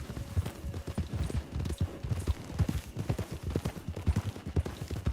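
Hooves of a ridden horse bushwhacking off-trail, a loud, close, uneven clip-clop that quickens with rising speed, alone without talk.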